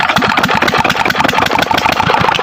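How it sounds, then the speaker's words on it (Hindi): An engine running a sugarcane crusher for making jaggery chugs loudly and close with a rapid, steady rhythmic knocking beat throughout. "ये इंजन चल गया, यहाँ से मशीन चल गई"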